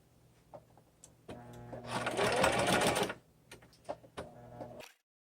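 A sewing machine stitches a purse pocket piece to its lining, starting and stopping in short whirring bursts with one longer steady run in the middle before going quiet.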